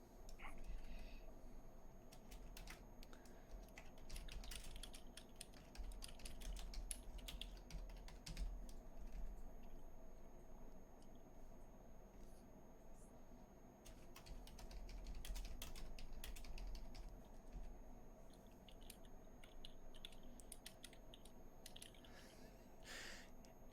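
Steady keyboard typing runs through nearly the whole stretch, a soft continuous patter of keystrokes with low room hum beneath, a faint voice surfacing briefly.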